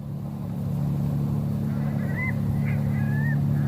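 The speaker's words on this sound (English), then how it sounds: "Man, that's one scary bird." A bird in the video game The Journey Down gives a few short honks, faint and a bit distant, over a loud, steady low rumbling drone.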